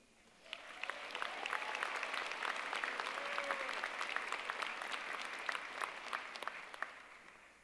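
Indoor audience applauding the winner of an annual college poetry competition, a dense burst of clapping that swells quickly and stays steady for several seconds before tapering.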